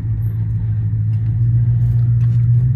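A Ford Crown Victoria driven on the road, its engine a loud, steady low rumble heard from inside the car with no talking.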